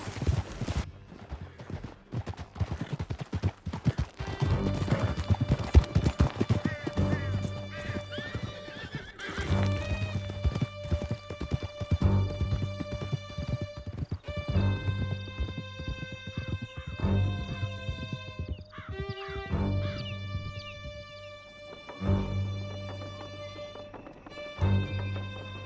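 Horses galloping hard through a canyon in Red Dead Redemption 2, with rapid clip-clopping hooves and loud neighs and whinnies over an orchestral score, the pounding thinning out toward the end.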